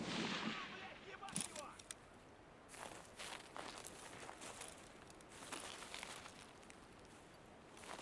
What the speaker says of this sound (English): Shooting somebody over there.